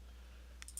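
A few quick mouse clicks made while shift-left-clicking a bar in the modded Minecraft pack Feed The Beast DW20, close and crisp over a steady low hum, with no voices.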